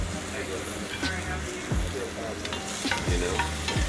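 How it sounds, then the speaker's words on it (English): Garlic sizzles in hot oil in a pan for a vegetable stir fry, a steady loud frying hiss with stirring clatter and a few sharp pan knocks, close up. "That gets a little sizzle to it."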